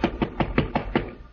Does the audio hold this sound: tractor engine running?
no